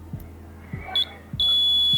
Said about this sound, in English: the alarm will ring and the gatekeeper will close the gate